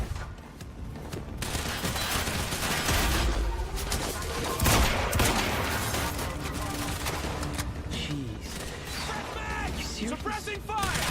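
Gunfire in the video game Quantum Break, sustained rattling bursts of shots and mechanical clatter amid combat noise, loud and continuous, with shouted voices over it.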